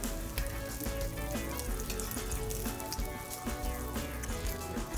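A crab and egg omelette sizzles steadily in a hot pan, making a dense, continuous crackle and hiss with small pops throughout and no voices.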